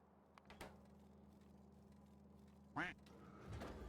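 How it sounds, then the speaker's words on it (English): A single short, nasal duck quack from the Factorio video game, loud against a steady low background hum, with a few faint clicks around it. "Quack."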